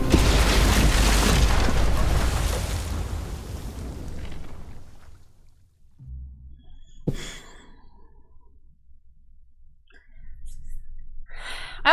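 A bomb blast in The Walking Dead: Final Season game, Episode 3 Broken Toys, booms loud and broad, then decays into a long rumbling tail, followed by a sharp crack, quieter debris noises and a brief gasp-like breath.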